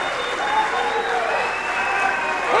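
Crowd at a high school wrestling meet, Paulsboro versus West Deptford, cheering and applauding for West Deptford in a steady loud roar that swells slightly toward the end.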